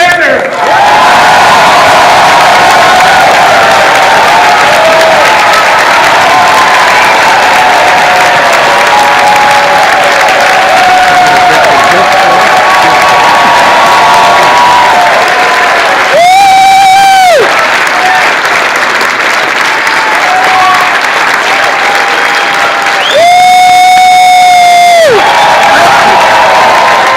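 Room audience applauding and cheering loudly and continuously to welcome Bernie Sanders, with whoops rising over the clapping and two brief high whistles near the end.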